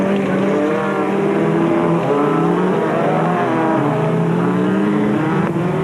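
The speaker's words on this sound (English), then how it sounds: "Craig Draper struggled away from the line as the super special vehicles got underway" Ford Courier super special race vehicles pulling away from a racing start line, engines revving loudly and continuously in several overlapping tones for about six seconds, with no talk.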